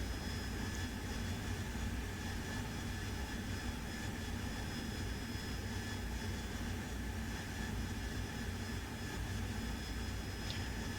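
Harrier jet engine in the DCS flight simulator, a continuous even whine and roar heard from the cockpit, steady and fairly faint throughout, with no voices.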